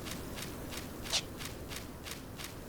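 Footsteps walking across the Konschtat Highlands in Final Fantasy XI, a soft, steady, evenly spaced crunch of about eight steps, moderately faint over a low ambient hum.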